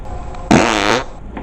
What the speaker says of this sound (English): This book just farted in my face.